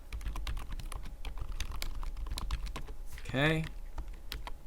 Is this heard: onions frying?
no